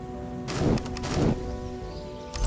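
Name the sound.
hail weather in a video game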